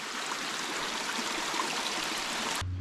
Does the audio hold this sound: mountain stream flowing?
yes